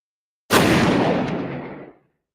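A single heavy gunshot-like blast from the Cincinnati Zoo shooting of the gorilla Harambe, a sharp loud onset decaying over about a second and a half, with no voices.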